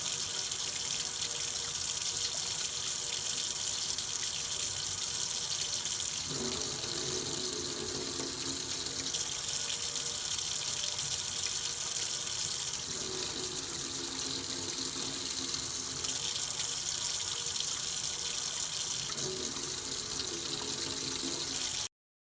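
Tap water runs steadily and close over the curved back of a spoon, a continuous hiss and splash with no voices, its tone shifting now and then as the stream meets the spoon.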